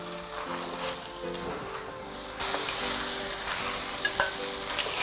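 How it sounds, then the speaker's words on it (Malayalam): Chicken pieces with salt and masala sizzle steadily in a pan, with stirring scrapes and a louder burst of frying partway through, no voices. "അപ്പോൾ ചിക്കൻ്റെ പീസസും കൂടി ചേർത്ത് ഏതാണ്ട് ഒരു 5-6 മിനിറ്റ് നമ്മളിങ്ങനെ വഴറ്റുകയാണ്"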